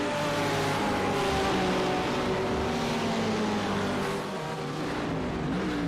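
Race cars in iRacing at Spa, several high-revving engines whining and shifting pitch as they battle through a chicane, loud and sustained with layered overlapping engine notes, no voices.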